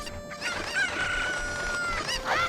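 Cuckoo chickens in Ocarina of Time cluck and crow in a busy run of bright, warbling game calls, fairly loud and close, with no talking.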